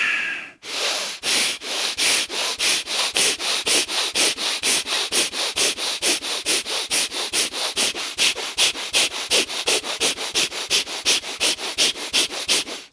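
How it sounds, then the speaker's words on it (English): Forceful, rapid breathing in and out through the nose during a yoga breathwork practice, a steady fast rhythm of loud, close, rushing sniffs and exhales with no talking. "we'll start with forceful inhales and exhales, going as fast as comfortable for your own capacity"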